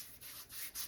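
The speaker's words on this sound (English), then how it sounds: "just rub it into your hands and your arms." Mustache oil, True North 24K, being rubbed between the hands, a soft, close, continuous skin-on-skin rubbing that swells and dips over under a second, with no talking.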